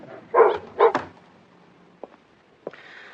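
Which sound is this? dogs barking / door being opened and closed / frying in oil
dogs barking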